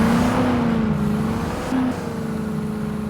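A car drifting on a road, its engine whining steadily with a sustained droning tone and brief pitch shifts, close and continuous without talk.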